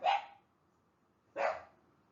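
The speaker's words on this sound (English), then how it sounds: "My dog wants in." A dog barks twice to be let in, two sharp, fairly close barks about a second and a half apart with quiet between them.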